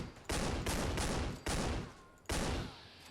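Unsuppressed AA-12 automatic shotgun in the shooter Fallout 4, four loud bursts of rapid full-auto blasts, each a dense wall of gunfire lasting about half a second to a second, close and harsh with brief gaps between.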